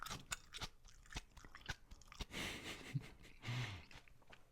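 Close crunching of food being chewed, a run of sharp bites and crackles at an irregular rhythm with a couple of louder, longer chomps near the end, fairly quiet overall.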